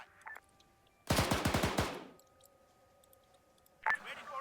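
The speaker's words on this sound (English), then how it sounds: "Continuing shots southeast." Gunshots in the video game Arma 3, a fast burst of automatic rifle fire in the middle of the clip, loud and sharp, with single cracks and faint radio-style tones before and after amid quiet background.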